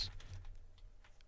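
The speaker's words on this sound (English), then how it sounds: "typing in my notepad seems to produce" Fingers tap keys on a computer keyboard in a short run of light, quick clicks, faint and close, with a low hum underneath.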